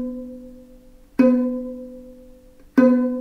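Two close pizzicato plucks on a violin A string prepared with a clothespin, each a bright twang with a long, slowly fading hum, heard alone.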